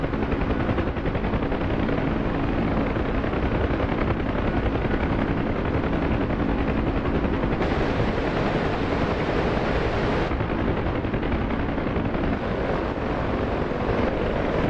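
Constant heavy noise from a video game flight, a helicopter's roar mixed with a dense rattle of gunfire. It is loud and unbroken throughout, with no clear pauses.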